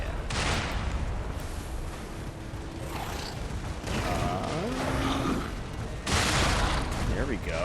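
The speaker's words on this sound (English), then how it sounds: "we're being shot at" Enemy gunfire from Lies of P rings out as bursts of loud, sharp shots and booming impacts amid combat noise, with someone talking over the action.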